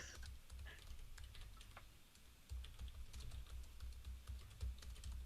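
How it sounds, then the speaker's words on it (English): Someone types on a computer keyboard, a busy stream of small close clicks and taps over a low background rumble, faint overall and with no voices. "But I'm typing."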